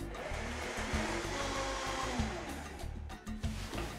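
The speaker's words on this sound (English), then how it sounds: "So we'll put it in the blender and we'll blend away, and it only takes 30 seconds with the Vitamix." A Vitamix blender crushes ice for a smoothie with a loud, steady motor roar that holds for the whole stretch, changing pitch slightly near the end.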